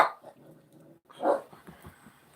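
A dog named Gizmo, indoors, gives two short barks, one at the start and a louder one about a second later, with soft whimpering between them.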